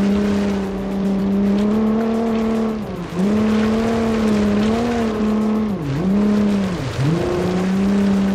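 A game car in Automation lapping a track, its engine droning steadily with pitch dips as it lifts for corners and then climbs again, continuous and fairly loud with no voices.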